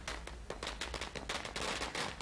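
Firecrackers bursting at a street celebration in Jammu and Kashmir: a dense, loud, continuous crackle of rapid pops with no let-up, like a long string going off nearby.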